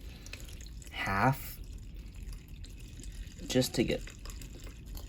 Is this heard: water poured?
yes